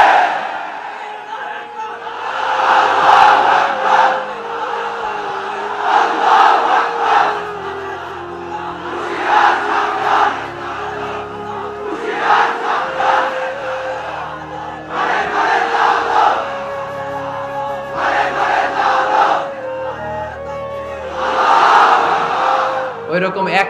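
A large crowd at a religious sermon shouts back in unison in repeated loud waves, each roar swelling and fading every few seconds.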